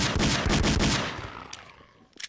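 Dense bursts of automatic gunfire fired at zombies in Garry's Mod, loud and continuous for the first second, then tapering off into scattered shots and a final sharp crack.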